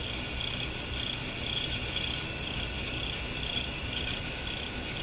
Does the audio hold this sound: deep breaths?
no